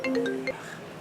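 A phone ringtone for an incoming call plays in a short melodic run of clear, bright tones that stops abruptly about halfway through, leaving quiet room noise.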